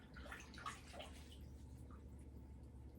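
Soft splashing and dripping of warm water in a bathtub as a houseplant's roots are rinsed, quiet and close with light sloshing that fades out.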